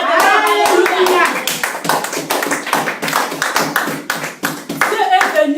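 A church congregation claps in a fast, steady rhythm for several seconds, loud and close, with voices shouting and cheering over the applause.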